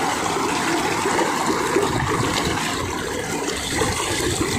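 Water in a mountain stream rushes and gurgles nearby, a steady, loud, unbroken flow with no voices over it.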